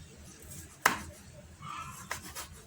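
A knife chops orange peel into tiny pieces on a cutting board, giving two sharp, close knocks about a second apart over a quiet kitchen background.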